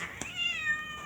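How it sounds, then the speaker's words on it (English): An angry cat lets out a single drawn-out, whining meow, close and fairly clear, with a brief click just before it. "Okay, cat's being angry."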